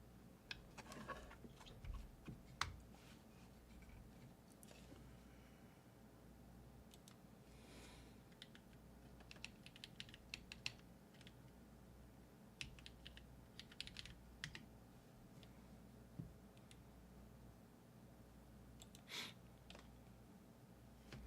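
Quiet keyboard typing during a keyboard tester check on a newly built Atelier Haven 103, with scattered light key clicks over a low steady hum, faint and without voices.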